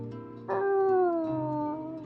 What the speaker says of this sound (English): her mouth opening in a weak howl